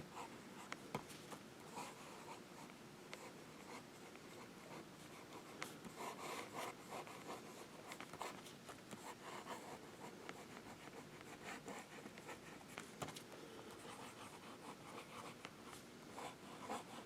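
A fountain pen scratches across paper in slow downstrokes and cross strokes, a faint close rubbing and scraping that rises and falls with brief light ticks, quiet and unbroken by talk.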